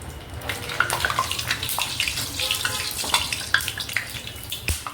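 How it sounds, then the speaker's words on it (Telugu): Puri dropped into hot oil in a home kitchen for a Rayalaseema-style puri kurma: a steady close bubbling and crackling of frying, splashy and watery-sounding, with scattered pops over the full stretch. "నూనె అయితే కాగింది, పూరి వేసేస్తాను"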